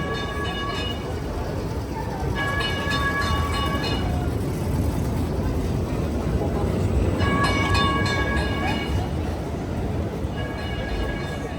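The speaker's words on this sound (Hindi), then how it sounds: "ये इनकी तकसीम टनल, ये जी इनकी ट्राम" Tram running through Istanbul's Taksim tunnel, a steady loud rumble with repeated tonal squeal or horn-like bursts near the start and middle, over a constant crowd and street background.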